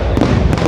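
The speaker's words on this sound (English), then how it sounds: "It's quite funny daytime fireworks." Daytime fireworks go off at a distance, a dense continuous crackle and rumble filling the short moment, with a couple of sharper bursts standing out, loud and without voices.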